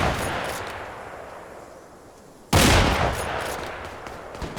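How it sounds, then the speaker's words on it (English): Gunfire in the military video game Antistasi Ultimate with RHS mods, a sharp loud burst cutting in midway over continuous noisy battle ambience, with distant shots in the background. "I can just like shoot at them, and they're not really caring too much"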